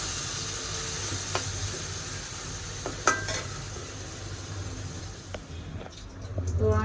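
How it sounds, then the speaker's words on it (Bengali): Mixed fresh fish cooking with belumbu in a pan on a gas stove, a steady close sizzle and fry with occasional stirring scrapes and clinks of utensils against the pan, no voices. "আমি এখানে 5 মিশালি তরতাজা মাছ দিয়ে আর গাছের বেলুম্বু দিয়ে রান্না করতেছি।"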